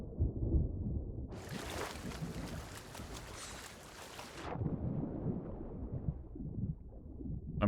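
Storm in the video game Shark Bait, a burst of broad rushing thunder and wind noise lasting about three seconds amid low rumbling ambience.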